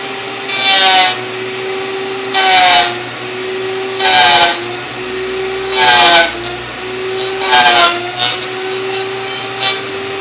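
Wood router (tupia) cutting a joint in wood with a jig, loud high whine rising in repeated passes about every one and a half to two seconds, near and intense.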